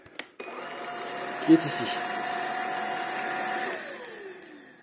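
A Lubluelu 25kPa cordless stick vacuum with a touchscreen clicks on and settles into a steady, loud motor whine that runs on unbroken, with someone speaking briefly as it starts.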